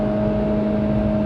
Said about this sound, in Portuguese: O motor, ele invade a cabine mais do que se espera para um carro de 2020